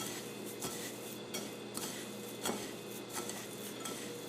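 Chili powder and other seasoning are being stirred in a bowl while cooking chicken, giving a steady scraping rub with light clinks of utensil on dish at a close, even level.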